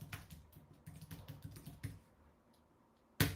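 Quick irregular keyboard typing, a run of light clicking keystrokes close by that slows and fades before one sharper clack near the end; no voices.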